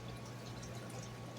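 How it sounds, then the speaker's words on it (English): Water poured from a container into a cooking pot of zucchini relish, a steady, soft splashing trickle, close and continuous for just over a second, with no talk. "I might pour a little bit of this water"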